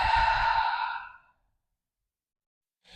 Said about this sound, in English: Take a couple breaths here.